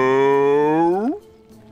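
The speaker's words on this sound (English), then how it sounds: "Moo?" A cow in Divinity: Original Sin lets out a single loud, sustained moo that rises in pitch at the end and then cuts off abruptly.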